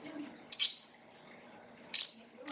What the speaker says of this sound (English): You're a chatty little bird.